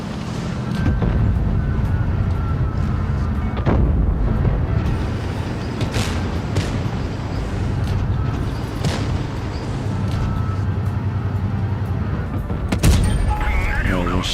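A tank gun fires in World of Tanks Blitz, with booming shots over a constant loud engine rumble and game noise, while a voice talks over the action.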